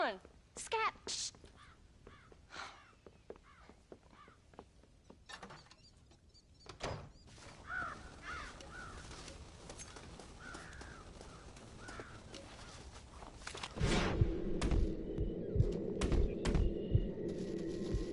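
Crows caw around a corn silo in the Red Dead Redemption video game, with harsh calls and scattered knocks over a busy game soundscape, and a low throbbing hum joins near the end.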